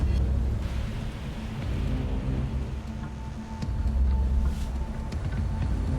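A thunderstorm rolls in with a low, continuous rumble of thunder and steady rain wash, heavy and close, with no voices.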